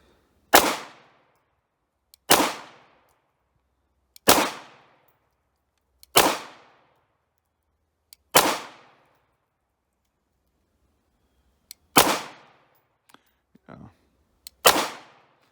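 Seven sharp, loud 9mm pistol shots from a Hungarian FEG P9M, a Browning Hi-Power copy, fired at a shooting range at a steady pace about two seconds apart, each with a ringing decay, followed by a few faint clicks of handling.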